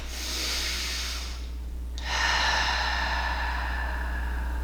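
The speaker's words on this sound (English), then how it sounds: "I'm just going to breathe" Slow relaxed breathing during thoracic spine rolling with sustained compression: a long hissing exhale, a brief pause, then another steady breath over a low hum.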